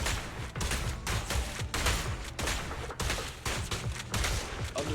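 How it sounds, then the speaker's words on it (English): Sustained gunfire in the action game Zenless Zone Zero, rapid dense bursts of shots hammering away almost continuously, loud and close, with brief gaps between volleys. "Sustain fire."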